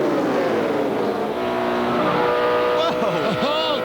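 NASCAR stock cars at the Brickyard 400 roar past with loud, continuous engine drone and Doppler-shifting pitch sweeps near the end, mixed with crowd and commentary-level noise throughout.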